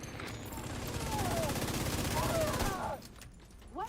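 Rapid automatic gunfire in a video game, a dense sustained burst that cuts off near the end, with voices calling out briefly under and after it.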